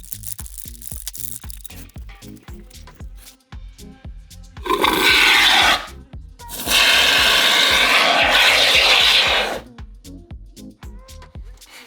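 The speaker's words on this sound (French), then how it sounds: "On remue, on secoue 20 fois et ensuite on peut envoyer la mousse." A spray can of expanding foam with a mixing ball inside is shaken in a rapid rattling rhythm, then releases two long, loud hissing bursts of foam, followed by more quick rattling shakes.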